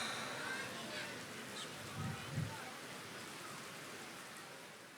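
Steady rain falls through the night at an outdoor religious gathering, a continuous soft hiss with brief low voices murmuring near the middle.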